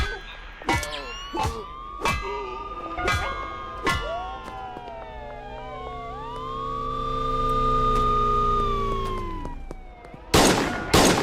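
Two police car sirens in a video game wail and sweep up and down close by, preceded by a few sharp impact or gun cracks and cut off by a burst of loud noise at the end.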